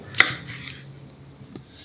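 Ingredients for Goan prawn pulao are finely chopped with a knife, giving two sharp, close board knocks about a second apart in a quiet kitchen.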